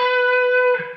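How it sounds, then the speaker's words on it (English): An electric guitar rings a single sustained note from a C sharp minor pentatonic lick in an effected tone. The note holds steadily up close, then shifts briefly and fades, with no talk. "Now we're going to go with a C sharp minor pentatonic, and it'll sound like this."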